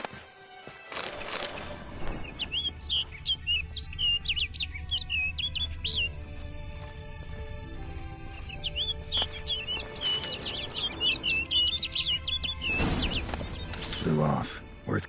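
A bird in a PlayStation 4 video game gives repeated high, chirping trills in two bursts, mixed with game ambience, heavy rumbling noise, and occasional speech.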